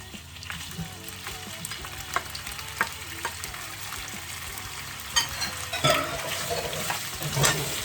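Meat for a smoked turkey and mushroom stew fries in hot oil, a continuous crackling sizzle with scattered pops and scrapes of turning, close and without speech.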